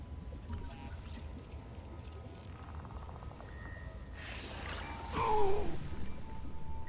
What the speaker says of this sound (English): Printer operation. Reprinting.